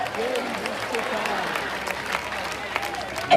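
A church congregation claps and cheers in acclaim of Jesus during a French-language deliverance service, with sustained applause and crowd noise filling the room and voices rising through it.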